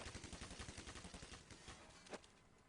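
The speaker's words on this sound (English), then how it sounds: "Two shots rattling off left, right, and center from fnatic as they try to wall bang any of the Reason players on the outside" Rapid bursts of gunfire in Counter-Strike (CSPromod) on de_nuke, shots fired through walls in quick rattling succession for over a second, then tapering off with a single louder crack near the end.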